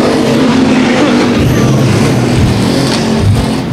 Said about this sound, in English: Now we got 3 wide now, briefly, as they race down into turn 3.